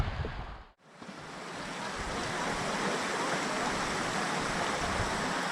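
Steady rushing water at a river swimming hole along the Okuku River on a hot day, a broad continuous wash close by that briefly dips near the start, then holds loud and unbroken.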